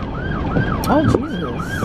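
An ambulance siren wails past in repeating rising-and-falling sweeps, loud and fairly close, with road traffic underneath and a brief exclamation from a voice.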